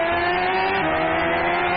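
Engine drone and tire noise from a car racing video game, a steady sustained whine at constant loudness with no talking.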